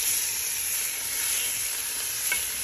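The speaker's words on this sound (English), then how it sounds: "So we're just going to cook this bacon down." Bacon sizzles in a pot, cooking down for its fat for an indoor Cajun jambalaya: a continuous bright frying hiss at an even level, with a small crackle pop near the end and no voices.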